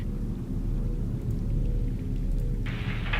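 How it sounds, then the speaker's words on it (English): Thunderstorm in the Subnautica video game, with steady heavy rain and low rolling thunder rumbling throughout, and a brighter hiss of rain swelling near the end. "Son, I said wait for the storm to pass."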